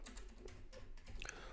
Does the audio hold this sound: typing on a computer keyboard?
yes